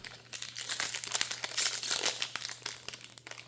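Trading card booster pack wrapper for Modern Horizons 3 being torn and crinkled open, a busy stretch of close crackling plastic rustle with sharp rips, no talking.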